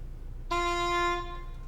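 English horn sounding a single sustained C note, a steady reedy tone of about three-quarters of a second over low background hum, fairly quiet.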